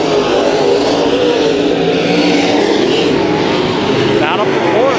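Race cars in a heat race at Kings Speedway, with engines roaring and revving as they run through the corners, loud and continuous, under a commentator's voice.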